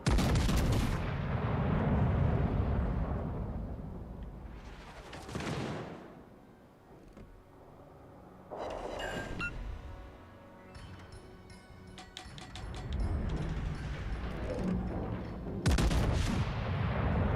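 Warship gun salvos boom in World of Warships Legends, several loud, heavy blasts with rolling tails spaced a few seconds apart and near together.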